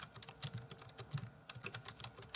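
Quiet, quick clicks of a computer keyboard as a file name is typed, uneven bursts of keystrokes close by with no talking.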